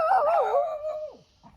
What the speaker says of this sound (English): Dogs.